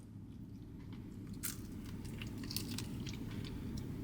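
Crunchy fried soy garlic chicken wings being bitten and chewed up close, with quiet, crisp crackles and crunches over a soft, steady low hum and no talking.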